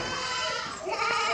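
Goat bleating nearby, one drawn-out wavering bleat filling the moment, loud and alone.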